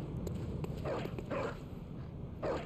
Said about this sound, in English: This dog is not happy about this door.